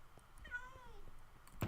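A pet cat meows once, a rising then falling drawn-out call that sounds worked up, heard close and clear over quiet room noise and ending in a sharp thump.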